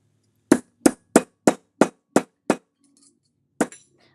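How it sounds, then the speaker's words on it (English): Hammers strike metal jewelry in a steady run of seven sharp, ringing taps close by, a short pause, then one more strike. "Trusty hammers."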